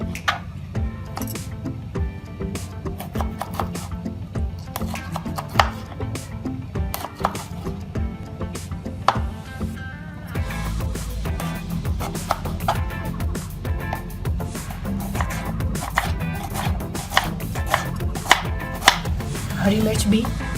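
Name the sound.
knife chopping tomatoes on a board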